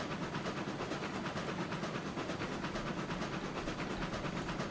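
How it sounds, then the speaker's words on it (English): A large locomotive running on rails in RailRoads Online, a steady dense rumble with hiss and rhythmic clickety-clack, continuous and fairly loud throughout. "we'll get a chance to see what one of the new locomotives does going down the new splines"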